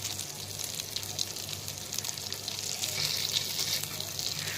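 Beef kabab sizzling as it fries in a mix of butter and oil, a steady hiss with soft crackle that swells slightly toward the end, close and continuous with no talk.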